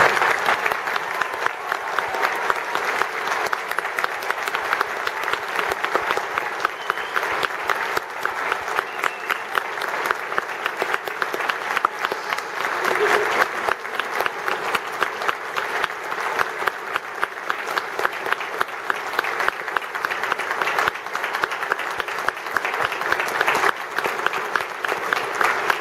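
An audience at a Victoria University graduation ceremony applauds the new graduates, steady dense clapping from a large crowd that continues at an even level for the whole stretch.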